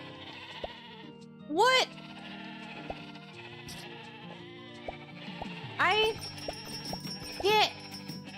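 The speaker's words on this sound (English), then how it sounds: "You lost sheep out of the store?" Sheep in the store game Discounty let out three loud wavering bleats, spaced a few seconds apart over quiet background music, and a voice speaks briefly between them.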